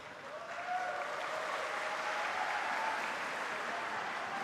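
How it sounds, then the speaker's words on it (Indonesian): Spectators in the stands at a futsal match at GOR UNY Yogyakarta, a steady wash of crowd cheering and clapping that swells early and holds at an even, fairly loud level throughout. "Beriringan dengan sorak-sorai para penonton yang hadir langsung ke GOR UNY Yogyakarta"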